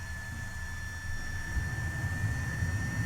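Jet engine in a flight simulator lighting off during start, a steady low rumble with a high whine tone that swells and strengthens halfway through as the engine catches, with no talk.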